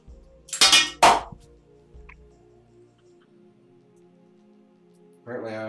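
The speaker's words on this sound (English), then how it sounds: "Apparently, my screwdriver wants to make music tonight." A screwdriver clangs against metal parts of a TronXY X5S 3D printer during an upgrade build: two loud ringing clangs close together, with a faint tick after, then quiet hum until a voice starts at the end.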